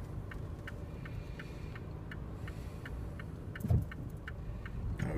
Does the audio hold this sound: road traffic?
yes